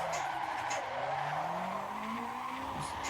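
Car tires squeal steadily through continuous drifting donuts in the Assetto Corsa racing game, a long wavering skid over a constant engine drone, loud and close throughout.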